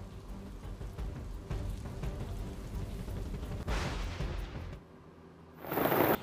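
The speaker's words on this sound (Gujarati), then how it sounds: "આજે ધોધમાર વરસાદ પડ્યો" Heavy monsoon rain pours down in Surat, India, in a steady, dense hiss, with a brief lull near the end before a loud burst of downpour returns.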